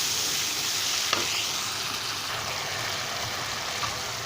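Tomatoes frying with garlic in a pan for a desi-style pakora gravy, a dense continuous sizzle held at an even level throughout, with a couple of faint clicks.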